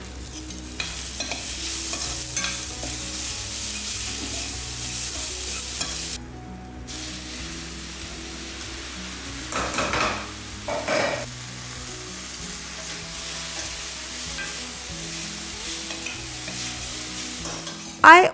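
A spoon stirs a vegetable mix with chili powder, salt, black pepper and sevia noodles in a sizzling pan, with repeated scraping strokes over constant frying hiss, a brief pause partway through and a clatter at the end.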